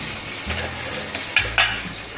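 Cumin seeds, whole red chillies, cloves and curry leaves splutter and crackle in hot oil for a kadhi tempering, a steady close sizzle with a couple of sharper pops near the end.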